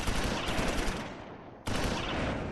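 Sustained rattling automatic gunfire with a dense, steady burst, a brief dip, then firing resumes just as loud, from the World War II video game Close Combat IV near Baugnez and Esch-sur-Sûre, December 1944.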